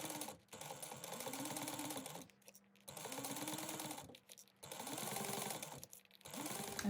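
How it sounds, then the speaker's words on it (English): Sewing machine stitching two sides of a backpack together, quiet steady whirring runs of stitching that each last a second or two, broken by short pauses. "We're going to sew the two sides together."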